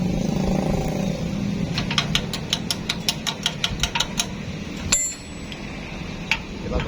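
A motorcycle engine being started again close by, a rapid regular ticking rattle for a couple of seconds over a low steady rumble, followed by a sharp clank and the engine running on.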